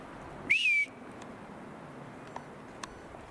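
A single bright rising-then-falling whistle, about a third of a second long, as a person whistles to call birds, followed by near silence with a couple of faint clicks.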